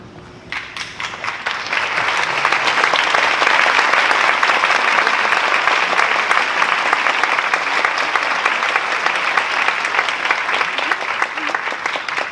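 A crowd applauds in a packed stadium: dense, continuous clapping that swells after a quieter start and stays loud and steady, with no distinct voices.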